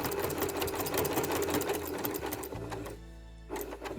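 A sewing machine runs steadily, stitching a quilted log cabin mug rug along a seam, a continuous close mechanical whir that stops briefly near the end before starting up again.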